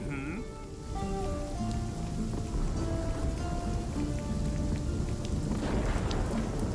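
Thunderstorm in RuneScape Dragonwilds: steady rain hisses over a low rumbling of thunder, with a building crackle near the end and a faint chiming tone underneath.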